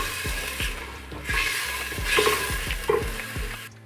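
Onions cook over medium heat in a pan for a meatball sauce, with a steady sizzle and repeated knocking stirs of a utensil against the pan, fairly close.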